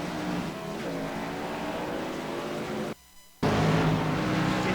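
Race car engines roaring in an iRacing oval simulation at Texas, a pack of stock cars droning loudly and steadily, briefly cutting out before surging back at full volume.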